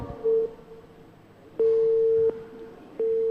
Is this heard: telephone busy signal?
yes